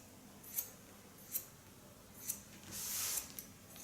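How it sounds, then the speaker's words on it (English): Scissors snip through long curly hair in a salon haircut, four crisp separate cuts spaced about a second apart, then a longer shearing rasp, close and clear over a quiet room. "with a normal scissor, I go in and I stay about a half centimeter below the line of cutting"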